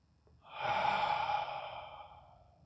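A single slow, calming breath, a soft airy exhale that swells and then fades gently over a couple of seconds, close and alone.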